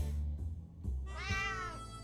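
A cat meows twice inside the 60 Seconds survival game, the second call longer and rising in pitch, close and clear over a low steady game-music bed with no talking.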